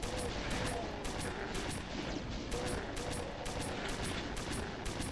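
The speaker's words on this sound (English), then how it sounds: "this is like what the combat shotgun does by default" Combat shotgun from the Innawoods Doom mod firing in a steady rapid stream of booming blasts while the trigger is held, loud and continuous with no pauses.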